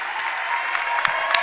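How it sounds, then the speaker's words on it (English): A crowd at Penn Gymnasium gives a standing ovation at a women's college basketball game, a dense, steady wash of clapping with a few sharper claps or shouts standing out near the end. "Standing ovation from the crowd here at Penn Gymnasium."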